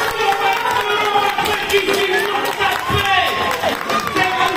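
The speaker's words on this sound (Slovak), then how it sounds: "Veľký potlesk!" Applause from an audience at the Miss Roma 2025 pageant, dense steady clapping and crowd noise mixed with a loud voice over it throughout.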